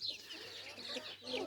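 A partially blind Pekin bantam rooster clucking softly up close, a few short murmuring clucks in a loose irregular rhythm, fairly quiet.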